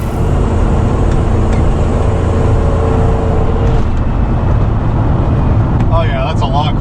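Van on a test drive after its exhaust heat shielding was reinstalled, a steady loud road rumble and engine drone from inside the cabin, with some light rattles and a brief squeaky sound near the end.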